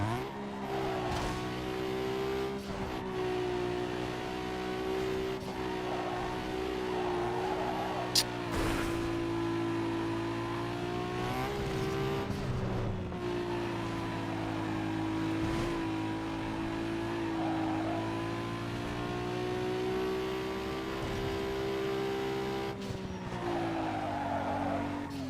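Sustained car engine roar from a street race in the Need For Speed Underground 2 video game, revving steadily with shifting pitch and brief tire skids, loud and continuous for the whole stretch with no talk.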